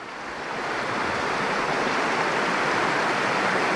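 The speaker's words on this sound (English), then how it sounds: "I mean, the river's just beautiful." A river runs past a meadow of wildflowers, its steady broadband rush swelling in over the first second and then holding as an even, close-up roar, with no voices.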